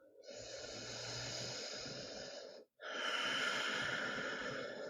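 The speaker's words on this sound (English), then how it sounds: "Take one more cycle of breath." Deep, full breaths during a gentle chair yoga session, two long drawn-out breath cycles close to the mic, each a steady airy rush separated by a brief pause, with no talking.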